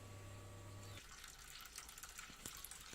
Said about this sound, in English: I've got the tap wide open